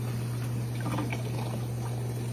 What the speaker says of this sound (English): we got the hose running into this one, overflowing it into this one